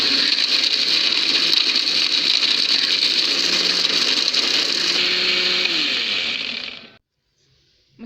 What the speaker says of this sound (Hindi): अब इसको हम ग्राइंड करते हैं।